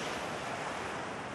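Ocean waves wash onto a beach as a continuous broadband rush of surf, mixed with some wind, with no voices.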